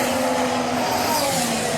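A Mercedes Formula 1 car with a V6 turbo hybrid engine races past, its loud, steady high-pitched engine whine filling the whole stretch with no break and no voices.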